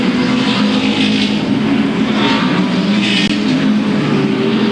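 Late model race cars lapping Louisville Motor Speedway in the Bluegrass 300, a loud, steady wall of engine roar with packs of cars swelling and fading as they pass.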